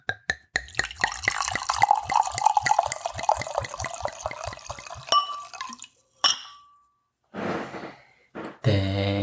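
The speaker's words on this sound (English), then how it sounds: "ASMR pour" Cabernet Sauvignon wine glugs steadily into a glass in a rapid rhythmic series of gurgles that rise in pitch as the glass fills, close and loud, then stops, followed by a few brief clinks and soft rustles.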